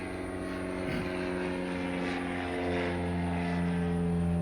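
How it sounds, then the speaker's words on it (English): Aircraft engines drone steadily at a busy airport, a loud, sustained propeller hum with layered tones that swells slightly over a few seconds. "Busy airport."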